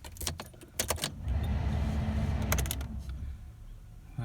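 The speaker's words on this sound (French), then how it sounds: "Du coup, je mets le contact." A car key jingles and turns in the ignition, followed by a steady low rumble as the car's electrics come on, close and fairly quiet, with no talk.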